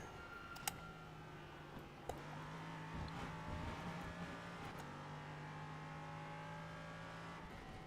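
LMP3 prototype race car engine in a racing video game, a steady droning hum holding pitch with a brief shift midway, faint and continuous, with a few sharp clicks like keyboard taps over it.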